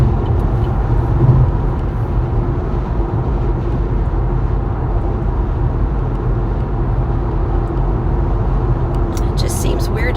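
Steady road and engine rumble from a car driving along a road on an overcast day, continuous and fairly loud throughout with low tyre and motor noise.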